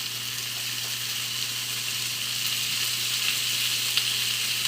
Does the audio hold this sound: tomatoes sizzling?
yes